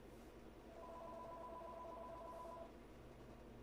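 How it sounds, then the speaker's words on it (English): A phone rings at home with a faint steady electronic tone lasting about two seconds over a low background hum. "while my phone's ringing"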